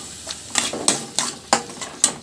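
A spoon stirs village-style mushroom gravy in a pan after a paste is added, about six sharp scraping strokes in a steady rhythm, close and fairly loud, with faint sizzling between and no talking.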